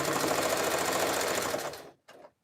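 A sewing machine stitching a jelly roll rug runs in a fast, steady, close whir for nearly two seconds, stops, then gives a brief final burst.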